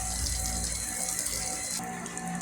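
Water running steadily from a tap as it is left to flow briefly before water sampling, a constant close gushing hiss that shifts slightly in tone partway through.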